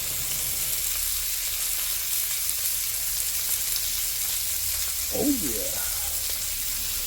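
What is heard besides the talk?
Kansas City strip steaks sizzling in a pan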